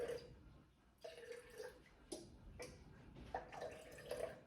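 Water poured onto flour in a container for a sourdough starter, heard as soft, uneven splashes and trickling gurgles close up, with no talking.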